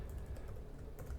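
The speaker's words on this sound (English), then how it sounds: "let's launch the Python interactive interpreter just by typing Python and hitting enter" Someone typing on a computer keyboard and then hitting enter: a quick run of light, close key clicks with a couple of sharper taps near the end, no voices.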